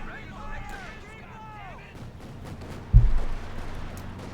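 A grenade goes off in Company of Heroes 2, a real-time strategy game of World War II battles, during a match between German OKW and US forces. One sharp, loud blast stands out over busy battle ambience and distant fire, while a commentator talks throughout.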